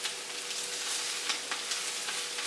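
Sausage ravioli and kale soup sizzles steadily in a pot while being stirred, with soft scraping strokes over a continuous close frying hiss and no talking.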